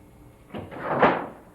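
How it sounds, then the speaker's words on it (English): A haunted house door drops open with one loud, close bang that rises quickly and then fades, heard alone with no talking. "The door drops"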